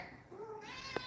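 Yoda, a rescue cat, gives a single short rising meow close to the microphone, followed by a soft click near the end.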